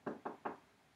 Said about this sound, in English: Knock on wood.